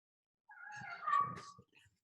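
A pet cat gives a single drawn-out meow indoors, fairly faint and alone, rising and then trailing off over about a second and a half.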